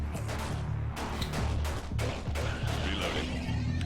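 Rapid, repeated gunfire from Breach & Clear: Deadline crackles in quick bursts over a steady low game soundtrack hum, fairly close and continuous, with no one talking.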